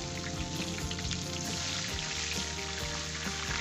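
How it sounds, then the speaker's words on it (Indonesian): Potato pieces, chilled with ice, frying in hot oil for crispy fries: a steady, dense sizzle with scattered crackles and pops, loud and continuous throughout with no voices. "Saat masih ada esnya, langsung saja tuangkan ke minyak panas"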